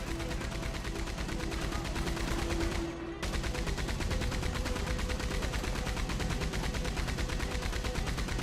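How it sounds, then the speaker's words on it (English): Rapid, continuous gunfire in Red Dead Redemption 2 with dense, loud shots packed close together, a brief break near the middle, then steady firing again. "I'm just going to shoot around and hope for the best."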